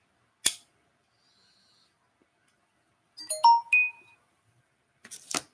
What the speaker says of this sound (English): my phone's been going off the entire time